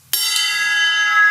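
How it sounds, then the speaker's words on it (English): A drummer strikes the bell of a cymbal once, giving a bright, loud ping that rings on with a long, steady shimmering sustain, alone. "Every time I hit that bell, I always want to do it."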